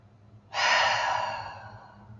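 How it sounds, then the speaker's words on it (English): A single long, deep breath rushes out through the mouth, beginning abruptly and fading gradually, close and clear over a faint hum during a yoga session for climbers. "take a few deep inhales through the nose and exhale out the mouth"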